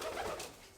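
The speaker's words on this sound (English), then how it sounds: "doves are just like a coo" A pet white racing pigeon, a dove, gives a soft, brief coo close by, a gentle low murmur that fades quickly.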